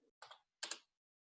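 Two short bursts of computer keyboard typing, each a quick cluster of keystrokes, close and fairly quiet with silence between and after.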